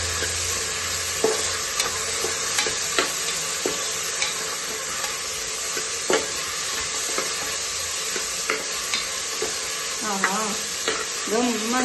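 Tomatoes and masala frying in hot oil for a double beans rice bath, with a steady sizzle and repeated scraping stirs of a spoon against the pan, close and continuous.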